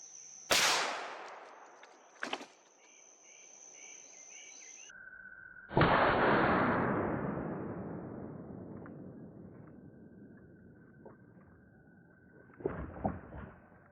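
A .375 H&H rifle firing 270-grain Hornady rounds into ballistic gel: sharp, loud shots stand out, with a long decaying echo after one blast and a few quieter clicks and knocks between them. Nobody speaks.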